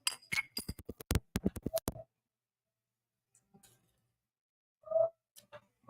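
Glasses clink together in a toast with a couple of bright, close chinks, set apart by quiet stretches and preceded by a quick run of clicks and taps.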